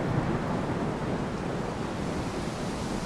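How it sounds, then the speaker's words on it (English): Ocean waves wash steadily in the survival game Salt 2, a constant broad roar of surf and wind with no distinct breaks, loud and unbroken, without talk. "But the waves in the game are awesome."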